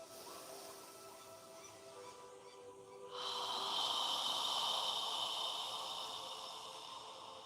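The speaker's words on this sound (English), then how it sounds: "as you exhale, imagine you're fogging a mirror with your breath" A forceful, airy exhale during a yoga breathing exercise, a soft hiss that starts about three seconds in and holds steadily for several seconds before slowly fading, quiet and close.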